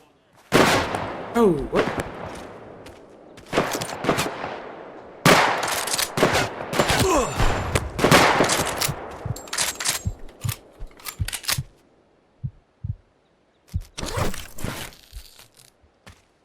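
Rapid bursts of gunfire from the video game Project Silverfish, clustered volleys and single shots that thin out into sparse isolated cracks, with a brief spoken exclamation among them.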